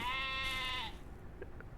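Bleating baby sheep and goats on a ranch in the video game Ranch Simulator, one long wavering bleat followed by a couple of faint, short calls in the background.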